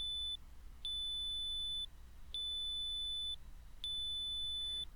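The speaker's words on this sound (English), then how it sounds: "Hatsune's PDA sent an alarm" An alarm from Hatsune's PDA in the video game Rebellions: Secret Game sounds when another PDA comes within range: three sustained electronic beeps of about a second each, repeating steadily over a faint hiss, with no one talking.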